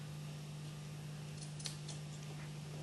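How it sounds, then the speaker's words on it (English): A quiet snip or two of scissors cutting car headliner fabric, soft and close, over a steady background hum. "we're going to make a little cut"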